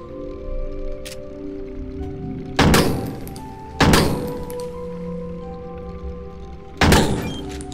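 A metal cabinet opening in the video game Crow Country: three sharp, loud metallic thunks spaced a second or more apart, ringing briefly over a steady low game ambience.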